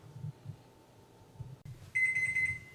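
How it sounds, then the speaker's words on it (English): A kitchen timer goes off while pumpkin pie bakes, a rapid electronic beeping alarm that starts after a soft click and low room noise, clear and close but not loud. "I'm gonna set my timer for 10 minutes"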